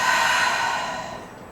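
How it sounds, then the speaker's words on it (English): Deep exhale through the mouth during yoga breathing, a single close breathy rush that fades steadily over about a second and a half. "Big deep breath in and out"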